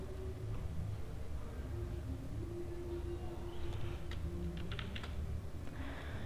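Keyboard typing while coding a Java hand cricket game, with a short burst of clicky keystrokes near the middle and end over a steady low room hum; faint and close, with no talking.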